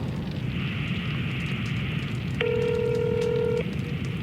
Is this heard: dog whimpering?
no